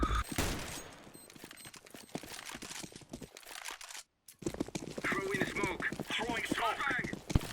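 Gunshots in Counter-Strike on the Inferno map, sharp rapid cracks clustered at the start and again in a later burst, with a brief silent gap midway and a voice talking over the action.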